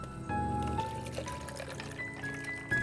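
Liquid pouring in the video game Beacon Pines: a close, continuous gurgling pour with a bubbly, rising trickle lasting a few seconds, heard alone without talk.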